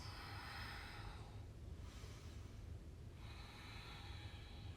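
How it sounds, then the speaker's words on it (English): Slow, soft breaths during a gentle yoga recovery flow, two long airy exhalations drawn out several seconds each with a brief pause between, quiet and close with no talking. "Breathe out."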